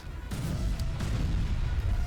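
Bombs thrown by a giant boss exploding in the video game War of the Monsters, heavy low rumbling blasts rolling over one another with a few sharper bursts, loud and continuous over game noise.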